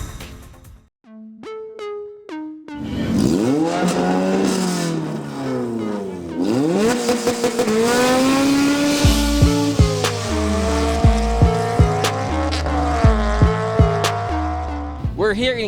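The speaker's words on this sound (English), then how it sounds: "We're here in Clark International Speedway in Pampanga for the biggest drag racing competition in the country, Race Wars." Drag racing cars at Clark International Speedway in Pampanga rev hard and launch in quick succession, loud engine sweeps rising and falling with tire squeal and sharp staccato bursts close by.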